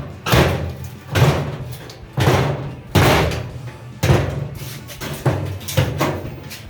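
A misaligned interior door in a back room being turned into a workshop is pushed shut repeatedly, about seven loud, close thumps and rattles at a steady pace.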